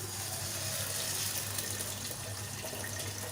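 Barley being rinsed under running water in a kitchen sink, a steady, soft gushing stream with faint splashing throughout, no talking.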